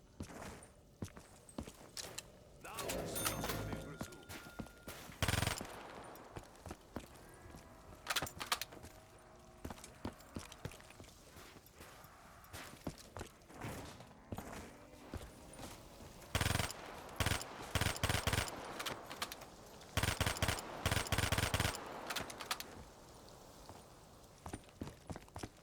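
Vesper submachine gun fire in Black Ops 3 Zombies, rapid automatic bursts repeating in clusters over ongoing game noise, footsteps and clatter, loud and near.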